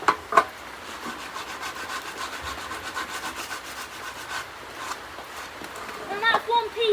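Wood is sanded by hand with sandpaper in a steady rhythmic rasping rub, close and moderately loud, with a few knocks and a voice speaking near the end.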